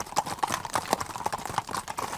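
Horses' hooves clip-clop in a steady, brisk rhythm as riders travel along woodland and country tracks near Chambord, several sharp hoofbeats close by with no talking.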